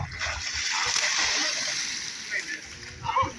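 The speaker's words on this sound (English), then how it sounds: "Time for a relaxing dip in the pool to cool off." Water splashing and sloshing in a swimming pool during a family beach vacation, a steady wash of broadband spray with brief louder splashes near the end, voices faintly mixed in.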